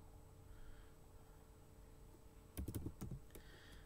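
A short burst of computer keyboard typing at about 2.6 seconds, a few rapid clustered keystrokes over a steady low background hum, fairly close and moderately loud, with a couple of scattered taps after it.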